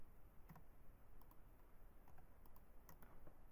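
Soft keyboard typing at a computer while writing HTML div tags, a handful of light, scattered key clicks spread across the stretch, quiet and close, with no talking.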